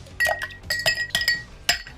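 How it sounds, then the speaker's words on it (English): Ice cubes dropping into a cocktail glass for a whiskey and rye drink, four or five bright, close clinks and rattles spaced unevenly over two seconds, with no voices. "Next we're going to add some ice"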